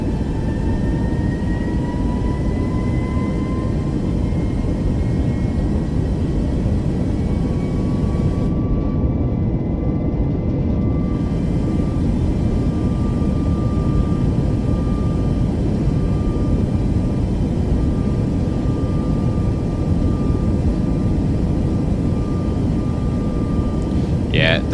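Boeing 737 MAX jet airliner engines hum steadily in Microsoft Flight Simulator 2024, a constant broadband roar with faint whining tones, loud and unbroken throughout.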